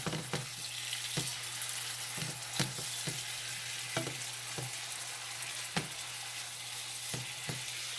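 Sausage meat fries in a pan for sausage gravy, a steady soft sizzle punctuated by regular sharp taps of a utensil stirring and scraping against the pan.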